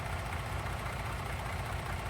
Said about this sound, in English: Get the engine started.